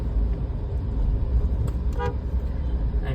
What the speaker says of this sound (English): And you've upgraded your horn also.